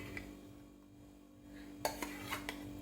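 A spoon clinks and scrapes against a bowl while yogurt is stirred into a crushed-peanut koshimbir salad, a few sharp taps near the end over a faint steady hum.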